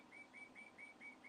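A pet bird called Chirpy gives about six short, evenly spaced whistled chirps, quiet and a little distant, over faint room noise.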